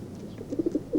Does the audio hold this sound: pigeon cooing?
yes